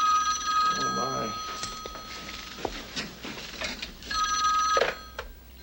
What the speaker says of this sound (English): now I think the phone rings